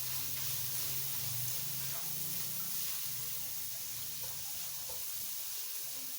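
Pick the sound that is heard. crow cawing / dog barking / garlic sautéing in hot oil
garlic sautéing in hot oil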